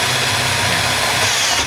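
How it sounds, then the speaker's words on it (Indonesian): A power drill fitted with a 3 mm bit bores a hole through a PCB, giving a steady, continuous high-pitched whine that stays level and close throughout. "kita ganti dengan mata bor yang berukuran besar 3 mili sesuai dengan lubang yang mau kita"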